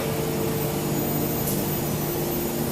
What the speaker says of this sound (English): we use the traction machine to straighten the bars